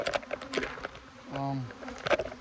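Bees buzz during a bee removal, a wavering insect drone rising and falling near the microphone amid faint tapping and handling noises.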